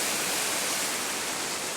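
A waterfall roars as a dense, steady broadband rush that stays close and loud throughout, with nothing else heard over it.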